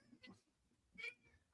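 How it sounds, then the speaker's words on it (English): A cat meows at about one second, a short moderately loud call with a faint earlier mew, in a quiet room with low background noise. "It's a cat."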